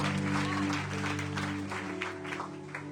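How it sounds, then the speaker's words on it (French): A church congregation applauds the Lord in sustained, dense clapping that stays full and fairly loud throughout, with a steady musical drone from instruments underneath. "Acclame le Seigneur pour la vie des frères"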